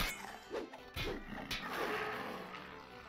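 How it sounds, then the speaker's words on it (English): Explosive barrels smashed with a melee weapon in the online role-playing game DDO, heard as sharp crashing impacts at about 0.5, 1.0 and 1.5 seconds over a steady game soundscape. "I shouldn't be smashing those with my melee weapon"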